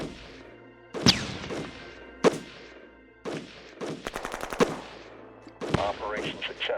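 Gunfire in the strategy game Shadow Empire, with sharp loud shots near 1 s and 2.2 s, then a rapid automatic burst with many evenly spaced shots around 4 s. A final blast comes near 5.7 s, with some voice sound underneath.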